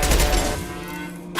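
Rapid, dense bursts of gunfire crack through a firefight in the video game Mass Effect 2, loud at first and then thinning into a lower rumble before one last sharp blast.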